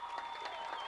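Stadium crowd applauding at the end of a high school football game at Nicholas Field, a dense steady wash of clapping with a faint sustained tone running through it, moderately distant and unbroken.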